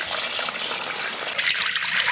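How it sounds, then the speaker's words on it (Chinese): Water streams steadily into a pot holding beef bones set to soak, a constant close rushing pour without pauses. "先加水。"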